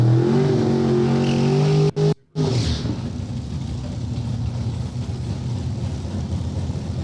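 A pair of drag race cars idles and revs at the starting line, a loud, throaty engine drone that breaks off briefly, then gives way to a broad, rushing roar, with no clear talking.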